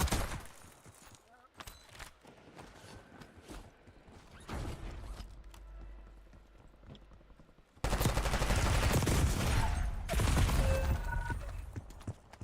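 In the video game Call of Duty Warzone, bursts of PPSh submachine gun fire crackle in rapid rattling strings, growing loud and dense toward the end, mixed with mechanical clicks and brief voices.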